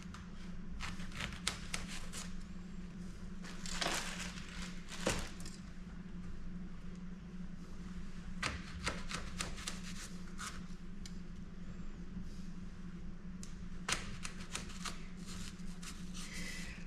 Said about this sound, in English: Got an apple that I started cutting up here.